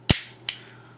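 Two sharp mechanical clicks from a Taurus Deputy single-action revolver, a loud close snap followed by a second about 0.4 seconds later, each with a short ringing decay and no other sound.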